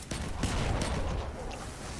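Sustained automatic rifle fire in a video game, a dense, continuous burst of rapid shots that runs loud and close through the whole stretch with no pauses.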